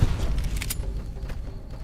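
Gunfire in Fallout: New Vegas, a loud sharp crack at the start followed by a couple of quieter booming shots trailing off over a low rumble.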